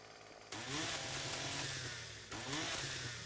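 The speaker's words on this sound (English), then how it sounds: "Guys, I'm so glad I figured out this chainsaw trick." In 7 Days to Die, a chainsaw roars through plants in two revving bursts, the engine whine rising sharply, sagging slightly, then surging again; loud, close and without speech.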